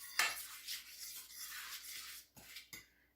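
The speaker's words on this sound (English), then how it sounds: "I'm mixing up the flour." Flour being mixed in a bowl in a home kitchen, heard as close scraping and rubbing strokes that come in steady bursts with two short separate scrapes at the end, with no voice.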